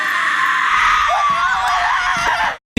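Loud, sustained screaming from people in a horror film scene, a shrill continuous wail that rises and wavers before cutting off abruptly to silence.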